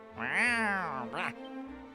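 A cat meows in the video game Dragon Quest I HD-2D: one long, rising and falling meow, then a shorter second call, close and clear against a quiet background.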